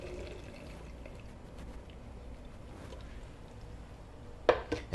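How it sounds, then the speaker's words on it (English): Cooked fava beans and their cooking liquid poured out of a pot, a low continuous watery slosh building into brief louder splashes near the end. "When your fava beans are done, you want to transfer them reserving the liquid."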